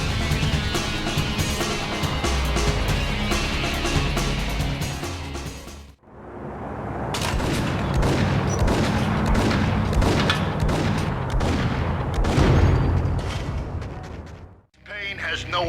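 Dense gunfire and booming impacts from a shootout in the video game Max Payne, with loud continuous bursts over roughly six seconds, a brief drop, then another sustained barrage with a sharp cutoff near the end.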